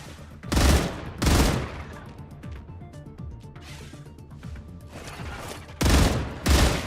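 Gunfire in the Star Rupture video game: four loud, close shot bursts, two in quick succession early on and two more near the end, with quieter rumbling and mechanical sounds between them.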